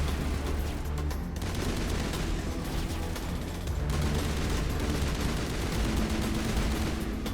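Rapid gunfire and combat blasts in Mass Effect, dense and continuous throughout, loud and close with layered booms.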